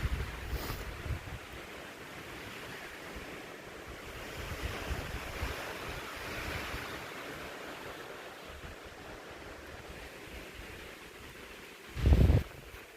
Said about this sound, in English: Some pretty dope wind down here.